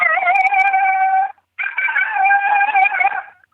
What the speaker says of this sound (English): I always answer him with female yodel howl. This is a non-aggressive female coyote.